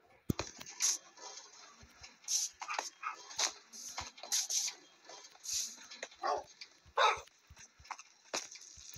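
Cartoon dogs bark and whimper in short, scattered bursts of yips and whines, fairly faint and spread across several seconds.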